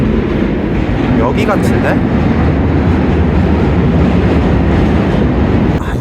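An elevated subway train passes in New York with a loud, continuous rolling rumble that fills the whole stretch, while a voice briefly speaks over it.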